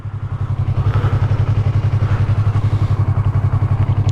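A motorcycle engine runs steadily up close with a loud, even, rapid low throb throughout, no voices.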